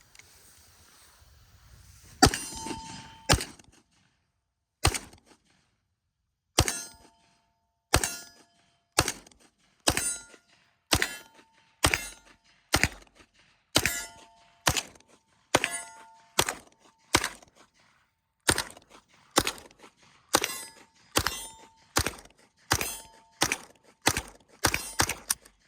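An IWI UZI Pro pistol fired at an outdoor range: about twenty sharp, ringing reports, at first spaced, then coming in a quick, fairly regular rhythm, each shot followed by a short decay.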